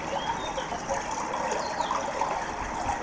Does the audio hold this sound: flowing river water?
yes